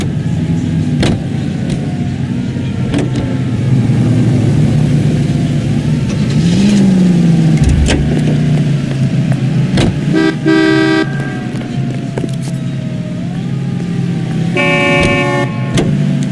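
A car engine hums steadily while driving in the 1940s Los Angeles detective game L.A. Noire, with several short horn toots from surrounding traffic, some revving, and a passing vehicle shifting in pitch.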